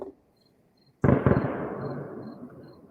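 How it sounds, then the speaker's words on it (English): Fireworks go off in a town far below a hillside: one sharp burst, then a long rumbling, crackling decay, with faint insects chirping in the quiet beforehand. "sorry them fireworks didn't show up better"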